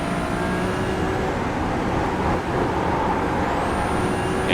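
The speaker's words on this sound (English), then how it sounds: "Start turning and you can hear the tire noise increase." Steady, loud tire roar and road rumble from a Ferrari 296 Challenge car driven in iRacing at Spa, holding an even wash of noise throughout with no one talking.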